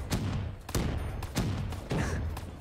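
Gunfire from a gun in Black Ops 3 custom zombies outside an Old West saloon, four loud booming shots in a steady rhythm, each with a long rumbling tail, close and dominant.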